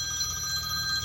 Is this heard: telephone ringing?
yes